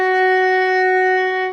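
Sustained bowed violin note F sharp, played with a high second finger on the D string, steady and clear for about a second and a half, alone without talk.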